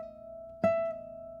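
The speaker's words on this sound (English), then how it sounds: "If you're doing a pull off and it sounds like this" A single weak pull-off on an electric guitar from fret 12 to fret 11, heard as one soft pluck over an already ringing note that fades quickly, quiet and isolated.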